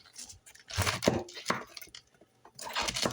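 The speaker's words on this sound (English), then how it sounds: "now we're going to chop our cabbage in half" A knife chops a cabbage in half on a board, giving several sharp, close crunching thuds in an uneven rhythm with quiet pauses between cuts.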